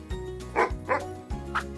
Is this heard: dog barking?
yes